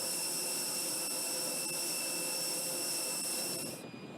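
Steady high-pitched whine and roar of an aircraft jet engine on the airport tarmac, loud and constant, cutting off sharply near the end.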